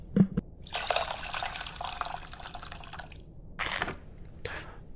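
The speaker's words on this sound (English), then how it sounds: "Then dump it through the strainer again." In the video game Venba, water is poured through a strainer between bowls, a close splashing pour lasting a couple of seconds, framed by a few drips before and two short liquid splashes after.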